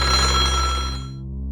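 An electronic telephone bell rings in the Japanese video game Kirigiri Sou, a loud bright trill that cuts off and decays within about a second.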